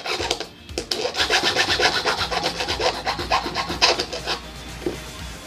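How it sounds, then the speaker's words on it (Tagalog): A hand file rasps steadily at a duplicate Honda Beat scooter key blank, fast back-and-forth strokes close to the mic with no talking. "Kunting kikil na lang."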